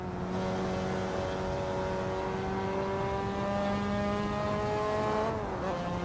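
A Mazda MX-5 engine in Assetto Corsa revs out of gear as a loud, steady, buzzing drone, dipping briefly near the end before holding high again.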